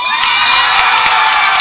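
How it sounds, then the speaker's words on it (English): A crowd at a junior high championship football game roars and cheers after the MTCS Cougars win. The sound is a loud, sustained wall of shouting and whooping with no break. "you hear from the roar of the crowd"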